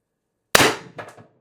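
A single sharp, loud crack from a Pistelle X-68 high-pressure air pistol charged to 700 PSI, fitted with an MCS stainless threaded barrel, followed a moment later by a smaller secondary burst, with no talking.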